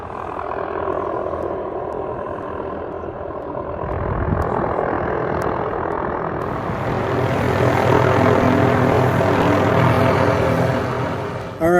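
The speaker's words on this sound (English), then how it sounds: "there's a helicopter behind me installing power lines" Helicopter installing power lines over residential acreage, its rotor and engine rumble loud and steady, swelling closer partway through as it hovers nearby.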